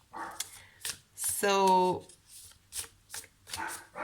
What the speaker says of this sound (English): Very noisy dogs.